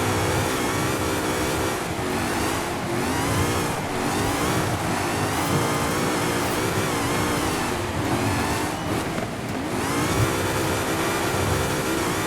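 A Ford Mustang in the racing game Forza Horizon 5 on a dirt trail, its engine revving loudly and continuously with rising and falling pitch and wheelspin, close and unbroken throughout.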